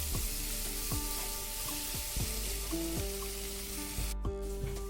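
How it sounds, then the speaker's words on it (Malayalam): Onions sauté in a pan for a camel meat curry, a steady sizzle with intermittent spoon scrapes and light clinks against the pan, close and moderately loud, no voices. "ഇതാ ഉള്ളിയൊക്കെ നല്ലവണ്ണം വഴന്ന് വന്നിട്ടുണ്ട്"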